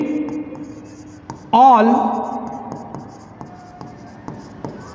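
Chalk or marker taps and scrapes on a classroom board as a teacher writes, a sharp stroke standing out midway, with the teacher's voice speaking around the writing.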